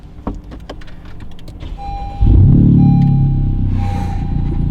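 A 2018 Honda Civic Type R engine cranks and catches at close range, jumping into a loud, steady idle rumble that settles slightly after a brief starter whir and faint clicks.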